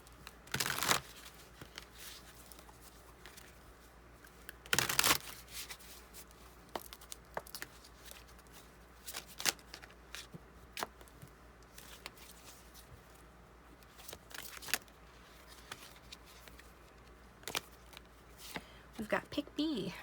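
Tarot cards are shuffled and drawn by hand in a love reading: irregular crisp riffles, flicks and soft slaps, with sharper bursts near the start and middle, alongside quiet speech.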